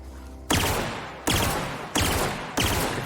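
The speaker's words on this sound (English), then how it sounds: "It's a burst fire weapon." Four energy-weapon bursts fire in The Outer Worlds video game, each a sharp, loud discharge with a decaying crackling tail, spaced roughly evenly less than a second apart.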